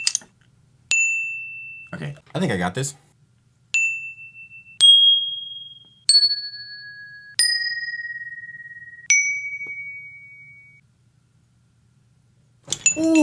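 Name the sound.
chimes being struck and recorded on a desk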